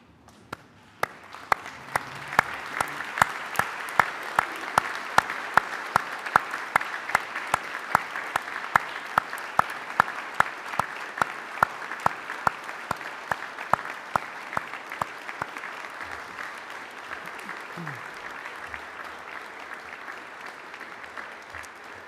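A large audience applauds the graduates at a graduation ceremony, sustained dense clapping that swells and holds for about twenty seconds before gradually thinning out.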